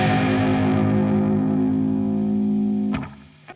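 A distorted electric guitar chord played around the 12th fret rings out and sustains for about three seconds, then is cut off, with a short scrape at the end.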